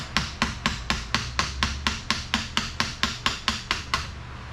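Light hammer taps on the starter of a Polaris Ranger 800 ATV, about eighteen sharp, evenly spaced metallic knocks in a steady rhythm, close and fairly loud, with no talking.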